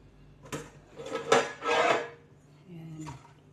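Cooked potatoes scraped and dropped onto a plate in a home kitchen: a few close scraping and clattering bursts of utensil on dish, then a brief softer knock.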